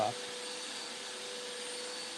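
A vacuum cleaner runs near rescue rabbits, giving a steady, loud, unbroken whooshing drone with a faint constant whine throughout.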